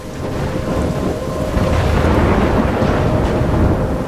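Thunderstorm in the video game Life Is Strange: dense, steady rain hiss with deep rolling thunder rumbling continuously underneath, loud and enveloping throughout.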